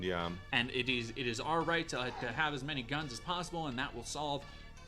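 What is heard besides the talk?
No everyday noise stands out behind the speech.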